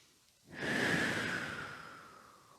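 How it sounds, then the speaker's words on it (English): A long, deep breath during a yoga stretch rises suddenly after a quiet start, holds as a broad airy rush, then slowly fades. It is close and moderately loud, with no talking. "Nice deep breaths."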